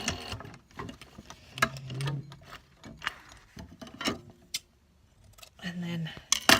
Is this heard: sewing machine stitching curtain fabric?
yes